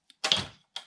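A studio rack drawer slides with one quick scraping rush, set between a tiny tick before it and a short rattling clack after it, close and dry.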